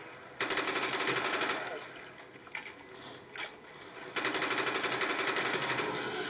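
Rapid automatic gunfire shooting zombies in a video game, two long loud bursts separated by a short pause that holds a few scattered impacts.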